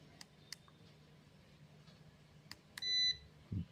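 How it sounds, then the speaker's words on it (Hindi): A multimeter on continuity range gives one short electronic beep, steady and fairly faint, after a few soft clicks and taps of the probes in a quiet room. "कंटिन्यूटी पर बीप का साउंड आता है।"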